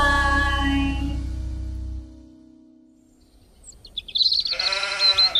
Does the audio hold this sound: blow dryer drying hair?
no